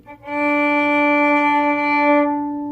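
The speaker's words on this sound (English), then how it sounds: "Okay, you have this open D," A single bowed viola note on the open D string rings steadily at a low pitch, clear and close, swelling in and sustaining for a couple of seconds.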